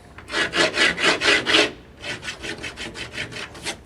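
A dime dragged repeatedly across laminate flooring: six strong rhythmic rasping strokes, a brief pause, then about ten quicker, softer scrapes, heard close and with no voices.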